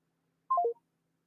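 A short burst of telephone keypad dial tones, three quick stepped beeps in a row, clear and alone against silence as a number is dialed back.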